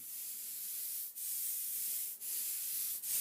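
An ink roller rolls over lino in smooth, even passes, each giving a soft sustained hiss broken by three brief pauses where the stroke changes direction; quiet and close, with no voices.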